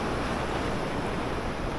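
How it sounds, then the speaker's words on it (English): Shallow sea water on a reef slapping steadily against a wading fisherman, a dense continuous wash of surf with wind rumble and no pauses. "that water's slapping the hell out of me"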